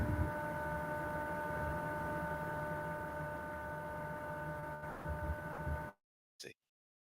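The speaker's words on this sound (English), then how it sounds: "Someone's got the Hoover on." A Hoover vacuum cleaner drones steadily in the background, a constant whining hum with fixed tones that holds for about six seconds before cutting off abruptly, followed by a brief faint blip.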